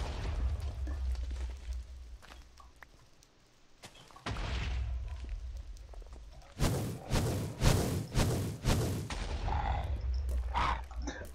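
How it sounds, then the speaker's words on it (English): Large explosions in the modded Minecraft game Gregtech New Horizons: a cluster of sharp, booming blasts bursting one after another in quick succession near the middle, set against quieter low rumbling game ambience, with no talking. "Holy cow, that's large explosions."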